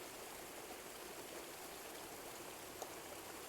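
A small stream flows beside a roadside, a steady soft rush of water with an even hiss and no breaks, faint and continuous with no voices.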